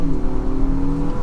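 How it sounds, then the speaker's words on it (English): A 2025 Infiniti QX60 Luxe AWD accelerating hard in sport mode, its engine giving a loud, steady drone from inside the cabin, with no voice over it. "If we go back to sport mode now, and floor it a little bit."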